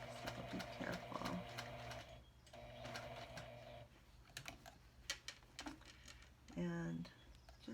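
A sewing machine stitches an Olson-style fabric mask with an aluminum nose bridge wire, running in steady whirring bursts that stop and restart, with clicks and handling sounds between runs.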